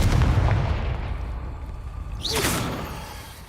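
Confringo blasting spell in Hogwarts Legacy, a booming burst with a rushing whoosh that fades, then a brief rising magical streak, fairly close over a low rumble.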